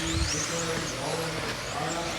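Off-road RC race car circling a track at a world championship event, its small motor whining steadily at a distance, blended with a constant wash of crowd and outdoor noise.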